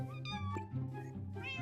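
A cat in the game Minecraft meows close by, a couple of short, high, wavering meows in quick succession over a faint background.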